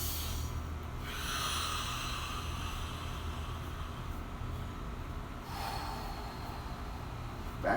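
Heavy, loud breathing during a morning mobility stretch, with long drawn inhales and exhales close to the mic, no talking.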